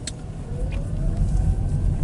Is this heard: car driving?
yes